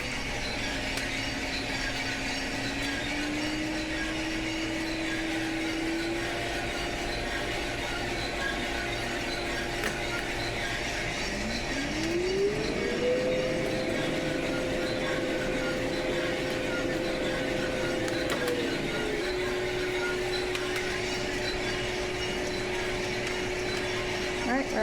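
A coffee roaster drum runs at full capacity while roasting Sidama West Arsi coffee samples, giving a steady mechanical whir and hum with slowly shifting tonal drones at moderate, even loudness.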